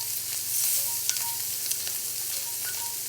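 Oyster mushrooms sizzle steadily in a hot pan while being stirred, a constant bright frying hiss with small clicks and scrapes of the utensil, close and even throughout, no voices.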